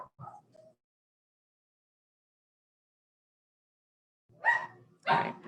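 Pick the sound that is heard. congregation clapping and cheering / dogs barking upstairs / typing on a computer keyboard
dogs barking upstairs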